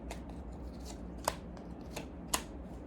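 Tarot cards being shuffled close by, a soft riffling texture punctuated by three sharp snaps as the deck is cut, with no talk.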